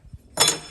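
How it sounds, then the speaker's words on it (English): A tempering oven in a knife-making shop gives a single bright ding, a sharp metallic ring that decays quickly after a soft thump. "I just heard the tempering oven ding"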